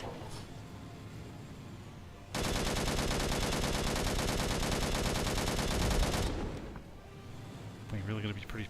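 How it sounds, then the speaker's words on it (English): Sustained burst of automatic gunfire in the video game Angels Fall First, loud and dense for about four seconds before dropping back to quieter game ambience, with a player talking around it. "We really gotta be pretty precise with the shooting with these guys."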